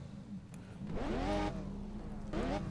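A Maserati MC12 engine in Test Drive Unlimited 2 revs up in a rising harmonic sweep, eases off, then climbs again briefly, moderately loud over a low idle rumble.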